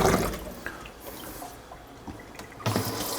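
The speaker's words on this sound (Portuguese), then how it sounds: "Vamos colocar aqui uma água também filtrada para dar uma higienizada." Filtered water is poured over vegetables to clean them, splashing loudly at first, then easing into a thinner trickle before a fresh burst of splashing.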